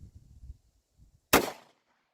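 A single sharp, loud shot from a .45 ACP handgun firing jacketed hollow-point defense ammunition cracks out after a few faint low thumps, then rings briefly into quiet.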